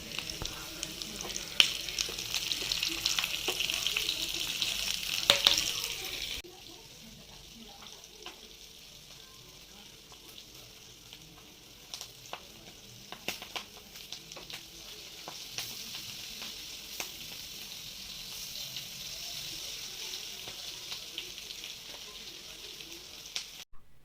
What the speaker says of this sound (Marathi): सर्व ज्या भरलेल्या मिरच्या होत्या त्या मी तेलामध्ये परतण्यासाठी घातल्या